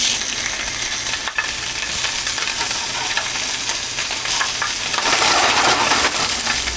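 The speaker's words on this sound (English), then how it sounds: "now that we have a nice sear on the one side of the Spam, we're gonna flip it over here" Spam slices sear in a hot pan for a Spam musubi, giving a steady, dense sizzle and crackle that runs unbroken throughout, close and fairly loud with no voices.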